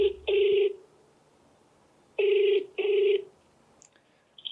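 Telephone call ringing: two pairs of electronic ring bursts, each pair a double ring, loud and close over near silence, with a faint tone near the end.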